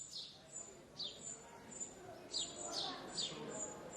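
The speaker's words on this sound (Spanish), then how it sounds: "quizá antes estuvo el canto de los pájaros" Birds in the city of Cáceres give short, high chirps and tweets, several scattered calls over a faint, quiet background with no one talking.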